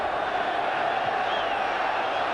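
Football crowd at a 1993-94 Napoli v Milan match in the stadium, a steady dense roar of many voices with unrest in the stands, continuous and even throughout, with no clear cheer or peak.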